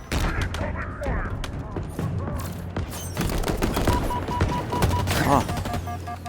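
Rapid gunfire bursts and sharp impacts from Halo Infinite combat, close and loud, with repeated shots and explosions plus some voices mixed in.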